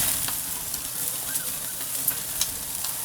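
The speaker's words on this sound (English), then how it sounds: "You can see I got a little fire coming up from the grease" Bacon-wrapped shrimp on a grill sizzle steadily as dripping grease flares into fire, with a close, dense hiss and faint pops and crackles throughout.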